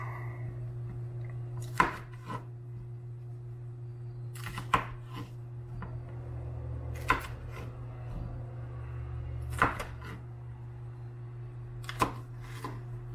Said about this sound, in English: we'll just give them a rough chop